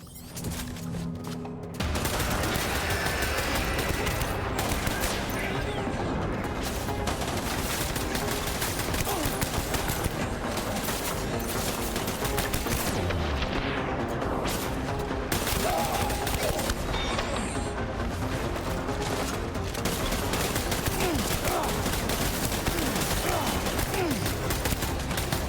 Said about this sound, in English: That thing's shooting us from up above.